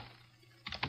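Typing on a computer keyboard: after a quiet pause, a quick run of close, crisp key clicks comes in a short burst, with no talking.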